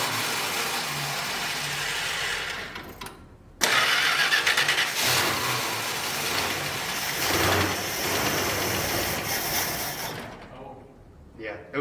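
A Plymouth Barracuda engine cranks over and catches, then runs and revs loudly for several seconds before it cuts out. Voices talk over the engine.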